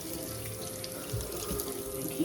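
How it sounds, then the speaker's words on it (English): Running tap water pours steadily into a cooking pot as soap is rinsed out, with a continuous close splash and a few small clunks of the pot. "I'm gonna just rinse it off"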